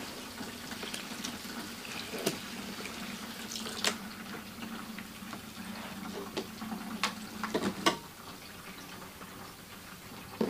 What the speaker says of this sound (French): on fait couler l'eau et on descend